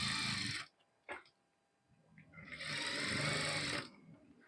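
Sewing machine stitching a blouse lining, two loud bursts of stitching with a short tap between them, close and clear, with no voices over it.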